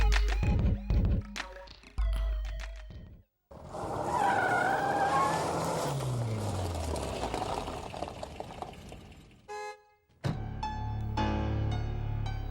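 A car arriving, tyres squealing and skidding as it pulls up with engine noise, set between other sounds in a short dramatic scene.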